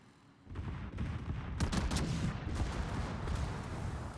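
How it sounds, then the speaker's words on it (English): Secondary guns on a World of Warships battleship firing at the Mecklenburg, a dense, continuous barrage of booming shots that starts abruptly and keeps rumbling on. "My secondaries are shooting Mecklenburg."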